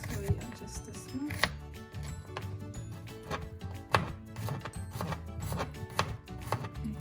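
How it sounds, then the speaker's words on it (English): A knife chops garlic on a cutting board, giving quick irregular taps that come in clustered rhythmic runs, close and fairly quiet, with a faint low background hum. "So now that we've finished chopping the garlic"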